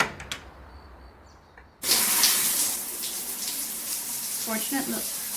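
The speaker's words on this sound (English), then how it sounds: "First things first, time to take a shower." A shower in the video game Novena Diabolos switches on abruptly after a quiet start, then pours as a steady, close hiss of running water that continues to the end.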